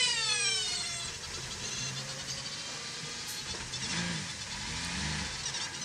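A Le Mans endurance race car accelerates out of a slow zone during free practice, its engine note rising in swept tones against a steady roar of track noise, moderately distant, with no talking.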